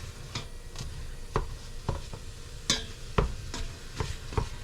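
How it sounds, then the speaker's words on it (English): A meat smasher presses and breaks up still-frozen ground meat in a pan on an RV stove, a series of dull thumps and scrapes at irregular intervals over a faint sizzle. "my meat smasher and smash this meat"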